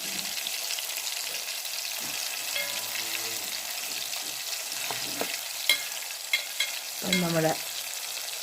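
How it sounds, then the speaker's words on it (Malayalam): Chura fish fries in a pan with a constant hissing sizzle, while scattered utensil clicks and scrapes punctuate it and a voice speaks briefly. "ഫിഷ് ഫ്രൈ ഇനിയൊക്കെ എടുത്ത് മൂത്തുകൊണ്ടിരിക്കുകയാണ് ഗൈസ്"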